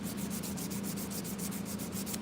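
A steel knife blade sanded by hand, steady rapid back-and-forth rasping strokes at an even rhythm, close and fairly loud with no talking.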